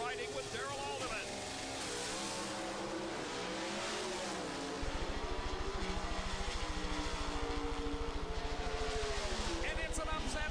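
Pro Stock drag cars, a Dodge and Larry Morgan's Oldsmobile, stage for a final at the 1991 NHRA Chief Auto Parts Nationals, their engines holding a loud, throbbing, steady rev while a commentator talks over them.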